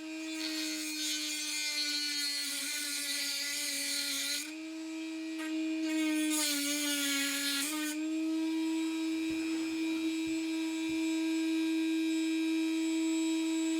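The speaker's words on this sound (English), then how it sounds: "I'm going to take my Dremel with an almost, well, it's an angle grinder attachment on it" Dremel rotary tool fitted with an angle grinder cutting attachment slices through old nails during a chair restoration, a loud continuous high-pitched whine that dips briefly as the disc bites, then screams steadily on, with no talking.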